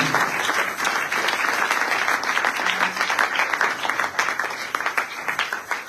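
A church youth service congregation applauds and claps steadily throughout, a dense, continuous wash of hands filling the room with no voices standing out.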